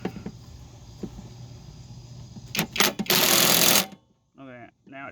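Impact wrench tightening a bolt on a riding mower deck, a few short bursts and then a loud sustained rattling whir up close, followed by a brief pause and then a few clipped voice-like sounds.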